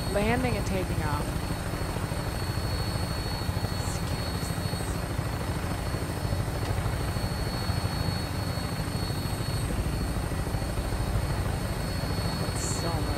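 A vertibird aircraft in a video game flies past with a steady, loud rotor drone that runs the whole time, with faint game noises now and then.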